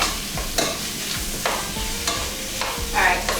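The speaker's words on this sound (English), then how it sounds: "Alright, so I'm cooking my sausage" Sausage frying in a pan, a steady close sizzle with occasional scraping stirs and clinks, no talking over it.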